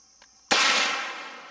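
A single sharp gunshot from an Inland M1A1 Paratrooper carbine cracks loudly and close at an outdoor range, its blast ringing out and decaying over a second, with a faint click just before.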